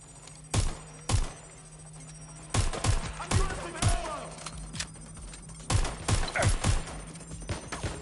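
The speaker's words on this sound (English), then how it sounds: "Shots fired." Gunfire in the Watch Dogs video game: sharp shots that come singly and then in quick bursts of two or three, fairly loud against a low steady hum, with a voice talking now and then.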